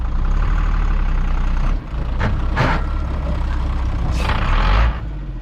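A Mack diesel box truck engine drones loudly and steadily up close, its roar briefly dipping and changing pitch as gears are shifted, with hissing and clatter mixed in.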